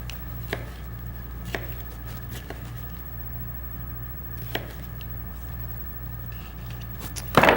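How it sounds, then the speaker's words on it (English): A kitchen knife slicing produce very thin for a chopped salad makes a few sparse, crisp taps on a cutting board over a low steady hum, ending with a short rustle. "we're going to slice these very thin"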